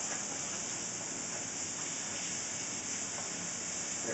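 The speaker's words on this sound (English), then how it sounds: "I put a little olive oil down in the pan, about 2-3 tablespoons, and I'm just going to saute them up" Floured chicken sautéing in olive oil in a pan, a steady, close sizzle and hiss running unbroken throughout, with no talk.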